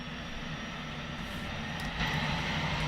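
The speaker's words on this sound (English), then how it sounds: "we should have a spinning prop, and we do" Propeller engines of an aircraft in X-Plane 10, a steady loud droning hum with a slight rise in intensity near the end, no talking.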